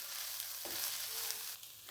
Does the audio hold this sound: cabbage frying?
yes